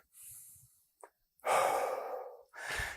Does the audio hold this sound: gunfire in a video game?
no